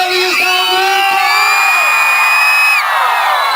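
Rodeo opening crowd shouting, whooping and cheering loudly and continuously, with high sustained yells and whistles ringing over the arena roar.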